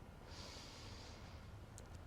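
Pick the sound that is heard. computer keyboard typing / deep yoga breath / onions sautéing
deep yoga breath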